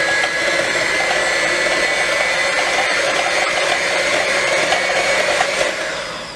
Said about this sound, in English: we're going to go ahead now and start mixing this